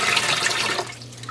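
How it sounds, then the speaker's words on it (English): Water is gently squeezed out of a freshly dyed yarn cake, a close, steady trickle and splash that fades off toward the end, with no voices. "gently squeeze out the water"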